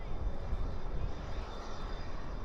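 An airplane departs at night from Dallas/Fort Worth airport, its engines making a continuous broad, rumbling roar from a moderate distance that stays steady for a few seconds.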